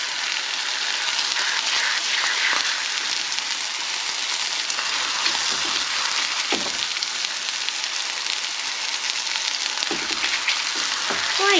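A thin steak sizzles steadily in hot olive oil in a pan, a loud, continuous frying hiss with small pops throughout and no talking.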